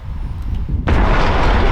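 Dynamite blast set off beneath an excavator bucket, a single loud sudden boom bursting out of low rumbling and sustaining a broad, roaring wash of noise to the end.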